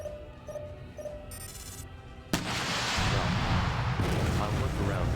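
Missiles launching in a space combat game: after a stretch of quiet beeps and interface tones, a sudden loud whoosh bursts in and turns into a sustained roaring rush of firing, with no talk.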